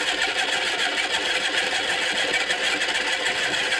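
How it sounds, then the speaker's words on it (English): The small electric motor of a cheap kid's pottery wheel spins steadily, giving a constant, even whirring hum with no breaks or changes in pitch. "It's designed to be a kid's pottery wheel."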